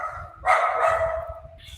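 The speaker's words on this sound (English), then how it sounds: "It's my dog's barking in the background." A dog at home gives one loud bark followed by a drawn-out whining yelp, fairly close, over a low rumbling background.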